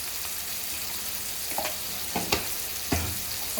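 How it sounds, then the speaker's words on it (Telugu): Garlic fries in a pan with turmeric for a gongura curry. A steady sizzle runs throughout, broken by occasional stirring clicks and scrapes. No one speaks. "ఇప్పుడైతే ఇది వేగుతుంది కదా"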